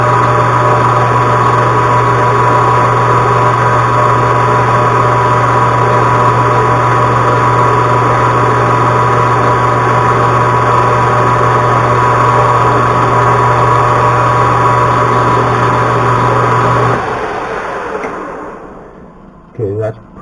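A high speed drill runs in a metal lathe under power feed, a loud, steady machine whine with a strong hum held unchanged for about seventeen seconds before it spins down and stops, a couple of short clunks following.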